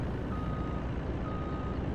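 A heavy-haul truck in Farming Simulator 19 reverses, its beeper giving faint, regularly repeating tones over a loud continuous engine drone.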